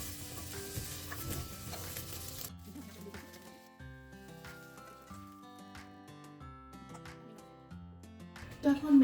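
Onions frying briefly in a little oil in a pan, a steady soft sizzle with occasional stirring scrapes, partly under background music and a voice.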